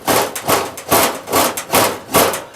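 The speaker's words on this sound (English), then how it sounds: "That's just basically scraping and scraping, and then turning and scraping." A coconut being scraped by hand, six rhythmic rasping strokes about half a second apart, each a close, gritty swell that fades before the next, with no talk.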